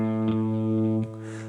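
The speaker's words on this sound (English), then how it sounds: "let's demonstrate by playing an open A string" An open A string plucked on a guitar rings out in one sustained tone, with a faint second attack near the end, heard close and alone.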